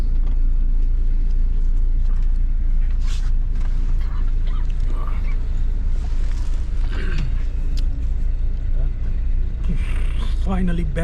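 Inside a bus on a highway trip, a constant loud low engine drone and road rumble with creaks and rattles of the cabin, muffled voices faintly in the background.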